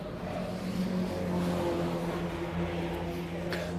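Mazda MX-5 club race car, number 46, droning steadily past on a circuit during a title-deciding race, a sustained engine note holding at moderate distance with no clear approach or fade.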